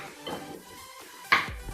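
Stirring ginger-garlic paste into chilli chicken in a pan, soft scraping followed by a sharp metallic clink of a utensil against the pan, close and quiet.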